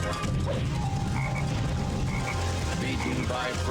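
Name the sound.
frog croaking in a video game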